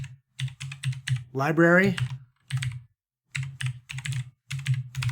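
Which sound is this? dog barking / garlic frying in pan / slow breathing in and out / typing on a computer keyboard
typing on a computer keyboard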